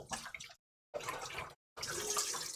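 Measuring cups being rinsed under a running kitchen tap in three short bursts of splashing water, separated by brief silences, close and clear.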